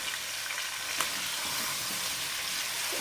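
Tomatoes sizzle and fry in a pan with a steady, loud hiss while they are stirred for chicken yakhni pulao. A few soft scrapes sound under the sizzle and no one speaks.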